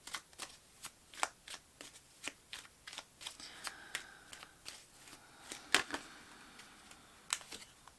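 Tarot cards shuffled by hand in a steady run of crisp riffling snaps, close and fairly quiet, with a louder slap or two partway through and no talking.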